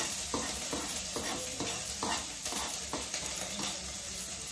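Garlic and onion sizzling in a pan for mixed dal, a constant frying crackle with repeated stirring scrapes and taps of a utensil against the pan, close up with no talking.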